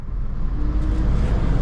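A manual car engine runs in first gear as the clutch is released, a close, steady low rumble without any revving.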